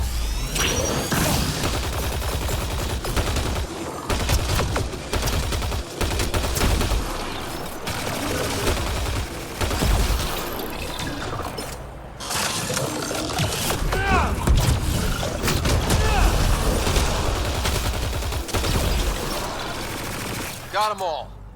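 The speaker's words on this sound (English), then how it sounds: "She's always just shooting some scenery." Sustained Mass Effect Andromeda combat fills the scene with rapid gunfire, bursts and whooshing effects, loud and continuous with only brief lulls, as a voice talks over the action.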